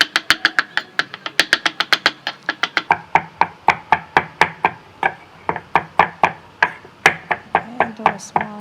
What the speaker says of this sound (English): we slice it into a small piece too